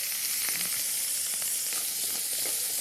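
Beef searing on its final side in a hot pan, just seasoned with salt and pepper, giving a steady, close, crackling sizzle with faint pops throughout and no talking.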